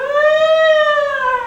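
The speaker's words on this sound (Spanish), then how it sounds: "el ruido de una sirena" A siren sounds alone, a steady, loud tonal wail with strong harmonics that rises slightly then slowly falls in pitch over its short run.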